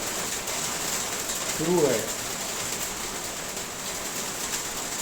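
Heavy September rain pours over Delhi in a steady, dense hiss that fills the whole clip, with a brief voice speaking near the start.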